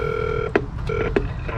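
Telephone keypad tones beep in quick succession, a few steady dual-pitch dialing beeps with short gaps and small clicks between them, clear and close.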